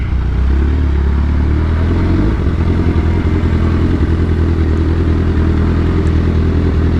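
A repaired motorcycle on a test ride in sixth gear roars loudly and continuously, its engine droning deep and steady with wind rush and rattle, no voices over it.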